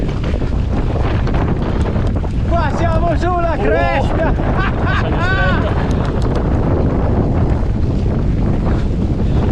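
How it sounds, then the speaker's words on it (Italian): Strong wind roars steadily into the microphone on a mountain ridge along the Strelapass panorama trail near Davos, a continuous loud buffeting throughout while someone speaks briefly in the middle. "qui si viene una folata dietro un po' più forte"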